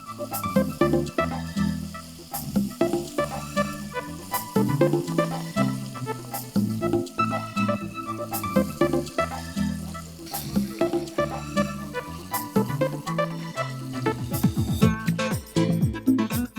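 Steady, loud sizzling and crackling of chicken pieces browning in a hot pan for bourbon chicken, continuous throughout with occasional stirring scrapes, close up.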